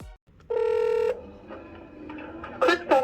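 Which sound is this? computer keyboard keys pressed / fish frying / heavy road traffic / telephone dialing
telephone dialing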